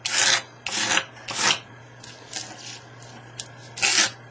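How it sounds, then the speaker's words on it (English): A ruler scrapes salt crystals off a watercolour painting in several rough, rasping strokes, each about half a second long, close and fairly loud over a low steady hum. "I'm just scraping it off."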